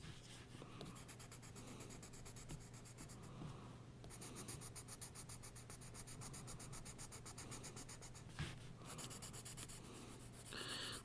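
Graphite pencil scratches steadily across paper while shading a drawing, a continuous soft rasping that comes in long strokes with brief pauses, close and quiet, no voices.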